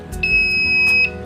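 Digital multimeter sounding its continuity beep across a shorted diode: a loud, steady high-pitched tone held for most of a second, close by and alone.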